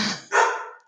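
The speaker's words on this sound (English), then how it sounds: "don't mind my dog" A single sharp dog bark, close and fairly loud, preceded by a short softer yip and fading out quickly, with no talking over it.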